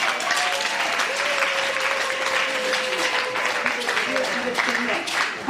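Congregation at a church service applauding and acclaiming the Lord, dense sustained clapping throughout with voices and a singing tone riding over it.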